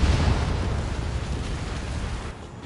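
A bomber blowing up after being shot down in an air combat video game, a loud sustained rumbling blast that stays dense and heavy before fading slightly at the end, with no talk.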